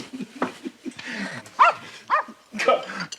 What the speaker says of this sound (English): Call off your dog